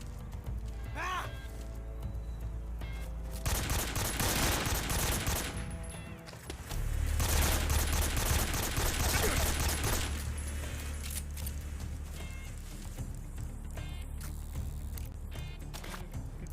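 Rapid automatic gunfire rattles in long sustained bursts in the video game Metal Gear Solid 3, loud and dense, with quieter gaps and scattered shots between volleys.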